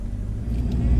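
A 4WD vehicle driving up Cape Bedford on Cape York, a brief low engine rumble heard close and steady, rising slightly toward the end.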